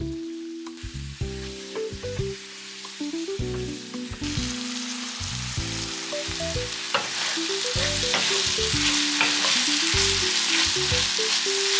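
Zucchini frying in olive oil with chipotle chili flakes, garlic salt, chili powder, salt and pepper in a pan, a continuous loud sizzle that grows denser and brighter, alongside a steady melodic background tune; no talk.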